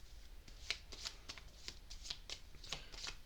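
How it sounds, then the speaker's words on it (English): Lenormand cards are shuffled by hand in a quick, crisp rhythm of repeated riffling snaps and soft slides, close and fairly loud with no talking. "I'm just going to get one more card with the Lenormand"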